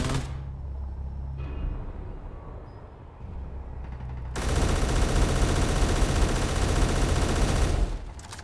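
Sustained turret gunfire from ES3: Relic Raiders, a dense rapid fusillade that swells loud and continuous in the second half after quieter, sparser firing at the start, with no talk.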